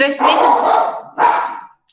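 A dog gives two loud, close barks, one long and one shorter, with a quiet pause after.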